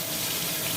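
Water pours steadily onto a paintbrush, a close, continuous rushing gush with no pauses and no voices.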